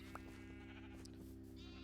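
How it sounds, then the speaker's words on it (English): Sheep bleat in a video game, a soft, brief call over a steady humming game backdrop, with no talking. "We're starting to get a good amount of sheep."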